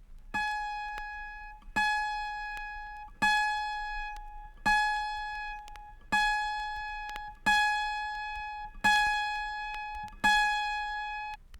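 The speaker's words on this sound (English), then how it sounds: "Finally, move to the F sharp in the higher octave," A single high autoharp string, the F sharp in the higher octave, is plucked eight times at an even pace, each note decaying slowly before the next pluck.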